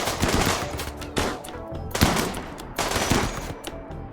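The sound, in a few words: gunfire in the video game RimWorld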